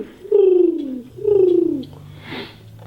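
A voice imitates a pigeon-like cooing bird call, two drawn-out falling coos close to the mic followed by a soft breathy trailing sound, loud and alone.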